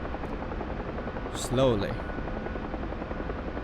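The rotor of a UH-1 Huey helicopter in the DCS flight simulator thrums steadily, with a voice speaking briefly over it partway through.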